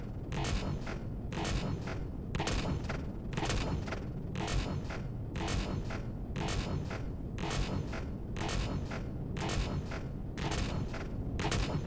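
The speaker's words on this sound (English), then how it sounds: "only 2 of my guns are actually hitting the target because we're so close" Spaceship guns in the survival game Empyrion firing at a target at very close range: about fourteen evenly spaced, booming volleys over a constant low rumble.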